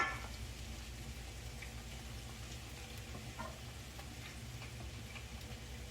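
Eggplant frying in a pan, a steady, even crackling sizzle held at low level throughout, with faint scattered pops and no one talking.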